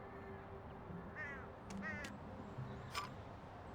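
A crow or magpie calls in a few harsh, raspy caws spaced apart, fairly faint and a little distant over a quiet background hum.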